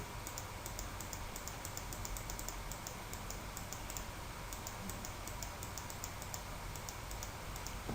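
Keys on a computer keyboard clatter in quick, irregular bursts of crisp clicks during photo editing, close and clear over a faint steady background hiss, with no talking.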